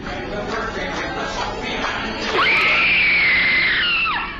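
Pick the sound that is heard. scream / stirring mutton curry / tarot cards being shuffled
scream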